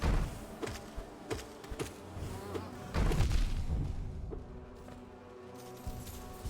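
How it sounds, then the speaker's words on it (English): A giant bee enemy in the video game Hollow Knight buzzes in a steady insect-like drone with repeated sharp game impact hits layered over it, loud and close, with no talk. "Oh, giant bee."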